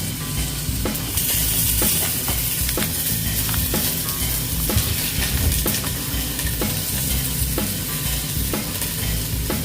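Broccoli fries in a pan for a chicken, vegetable and potato dish, a loud steady sizzle with scraping and stirring throughout.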